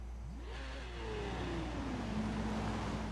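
Car engine in Forza Horizon 3 revving hard through a full-throttle launch, gas held without the brake, pitch climbing in a steady sustained roar with turbo spooling, loud and continuous.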